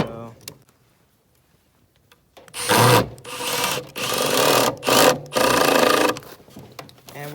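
A power screwdriver drives two small screws into a leftover wooden stair riser board for a bird feeder, in several loud buzzing bursts of whirring after a quiet pause.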